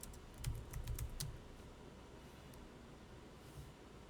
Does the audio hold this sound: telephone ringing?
no